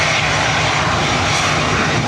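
A twenty-year-old Ryanair Airbus A320 runs its jet engines at Dublin Airport, a loud, steady, continuous roar close by with no voices.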